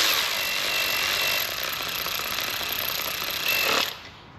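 A power tool runs a nut down onto a Ford 3.5 EcoBoost engine with a loud, steady whirring buzz. It rises briefly near the end, then cuts off abruptly.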